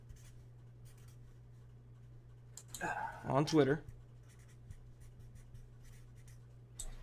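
Pen scratching across a sheet of paper in a short burst of close, soft strokes, surrounded by quiet room tone with a steady low hum.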